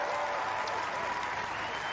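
Crowd applauding a pipe band performance at the World Pipe Band Championships, a dense, steady wash of clapping from many hands that holds at an even level throughout, full and close with no pauses.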